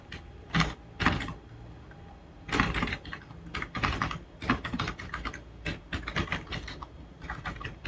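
Rapid typing on a computer keyboard while writing code for a programming contest, close and clear, with bursts of quick keystrokes, a short pause near the start, then steady continuous clicking.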